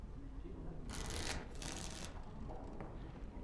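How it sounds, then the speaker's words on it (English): Playing cards are shuffled in the video game Dragon Age: Origins: two quick riffling bursts of crisp card flutter close by, set against a quiet background hum. "Before we start, the cards must be shuffled."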